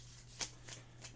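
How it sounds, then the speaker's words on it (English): A quick shuffle of a small deck of game cards, heard as three or four soft, close riffling bursts over a faint background hum. "Just give them a quick shuffle."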